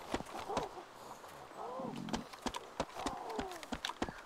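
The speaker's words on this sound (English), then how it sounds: "I hear footsteps." Footsteps of a character in the survival game DayZ, a run of sharp, regular thuds close by, set against a rustling outdoor ambience with a few whistling tones.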